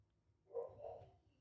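A dog barks once or twice at a distance, faint and muffled, with little else around it.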